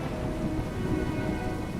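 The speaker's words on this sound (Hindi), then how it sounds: "यह बादलों की गरजने की आवाज सुनी तूने?" Thunder rumbles low and steady under heavy, continuous rain in a cartoon village storm, with no voices over the downpour.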